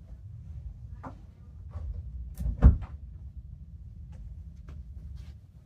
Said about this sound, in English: I'm gonna go ahead and shut my door.